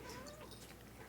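A pet cat named Minnie gives a brief meow, short and faint over a busy background of ambient noise.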